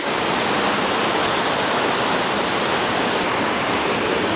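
Mountain river flowing below a hillside house: a constant, loud broadband rush of water, steady and unbroken throughout with no talk.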